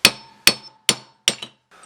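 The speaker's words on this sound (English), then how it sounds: "do it with a ball peen hammer or some kind of a hammer with a nice rounded edge" A ball peen hammer strikes a synchronizing hub from a Jeep CJ7 T150 transmission four times in steady, ringing metallic blows, close and loud, with a lighter tap at the end.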